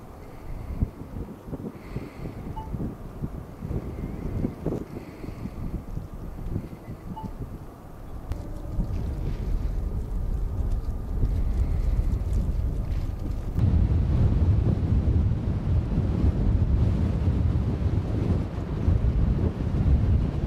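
A strong headwind buffets the microphone during the Rovaniemi 66 km ultra race in Lapland, producing a constant low roaring rumble that grows louder and heavier partway through, with no voices.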